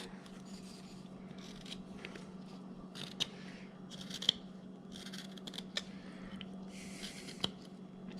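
Small knife shaving and carving wood on a hobo bust, a quiet steady scraping with scattered sharper cuts and clicks, close and alone without talk.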